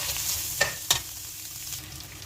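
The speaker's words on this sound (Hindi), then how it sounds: "और इसको तकरीबन 5 मिनट तक हम फ्राई करेंगे" Vegetables with bell pepper, sugar, salt and pepper fry in a pan for fried rice, giving a steady close sizzle with two sharp stirring clinks early on.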